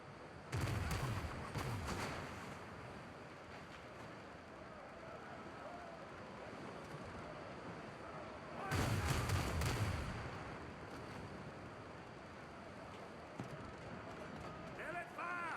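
Ship cannons firing in the pirate game Windrose: two heavy, booming volleys several seconds apart, loud and close over a steady windy sea backdrop, with a voice talking between them.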